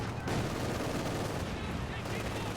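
Heavy gunfire or an artillery shot fired at conscript infantry in the World War II strategy game Company of Heroes 2, loud and dense through the whole stretch with a sharp new burst near the start and another near the end.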